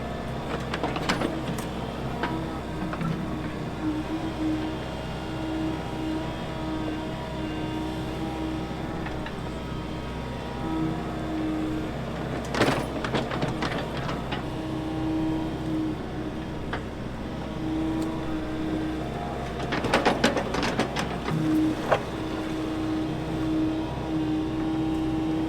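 A Case excavator digs a geothermal loop trench, its engine a steady close drone with two louder bursts of scraping and clanking as the bucket works the trench walls; no one speaks.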